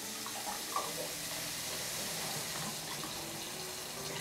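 Water runs steadily from an EPA WaterSense certified low-flow sink faucet in a home, a continuous even hiss with no pauses or speech.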